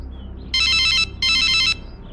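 A telephone rings twice, each trill a loud, bright burst of about half a second. A short gap separates the two rings, and a quiet room lies beneath them.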